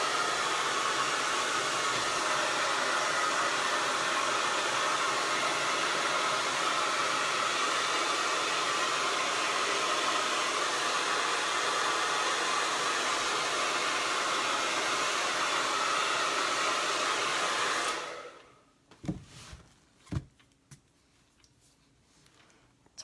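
A hair dryer blows steadily and loudly for about eighteen seconds, drying paint on a painted gingerbread man, then cuts off and leaves a few faint knocks and clicks.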